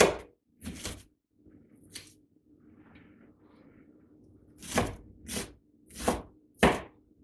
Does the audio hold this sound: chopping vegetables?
yes